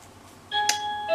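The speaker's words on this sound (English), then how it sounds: "There's the bell" A doorbell sounds indoors with a short electronic chime of a few clear tones, moderately loud, following a moment of quiet.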